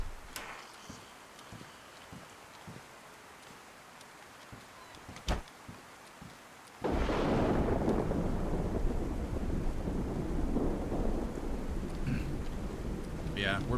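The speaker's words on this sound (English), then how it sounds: "we're basically just waiting for the storm" A thunderstorm rolls in over a town in the game DayZ; after sparse faint clicks, a sharp crack gives way to a loud, sustained rumble with heavy rain and wind that persists to the end.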